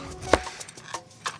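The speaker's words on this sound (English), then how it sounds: "I'm chopping these lengthwise" A knife chops freshly washed vegetables lengthwise on a cutting board, giving one sharp close knock followed by a few lighter, irregular taps.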